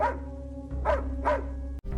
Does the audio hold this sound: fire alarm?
no